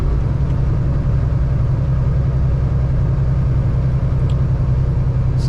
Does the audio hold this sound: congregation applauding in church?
no